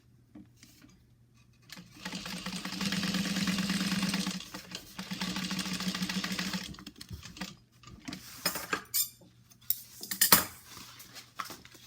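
A sewing machine top stitching a bag lining at a stitch length of 4.5 runs in a steady mechanical whir for several seconds, then sputters in shorter bursts mixed with close clicks and handling noises.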